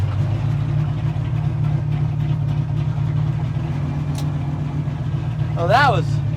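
A 1955 Chevy gasser's engine idles in a low, steady rumble throughout, with a short chirp-like squeal near the end.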